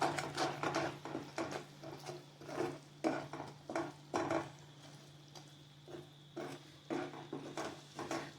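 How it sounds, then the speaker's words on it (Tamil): Jaggery syrup with cardamom powder being stirred for peanut laddu, a close, steady run of scraping and clinking strokes of a spoon against a metal pan, repeating in loose rhythm with no talking. "ஏலக்காய் பொடி கொஞ்சம் போட்டுக்கலாமுங்க. எல்லாம் போட்டு கலந்துக்கலாமுங்க."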